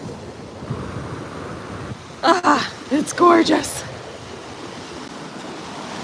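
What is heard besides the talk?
ocean waves at St. Pete Beach, Florida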